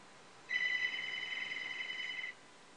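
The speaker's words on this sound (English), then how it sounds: "excuse me, I had a phone call there" A telephone rings with a single sustained electronic trill lasting about two seconds, clear and steady in an otherwise quiet room.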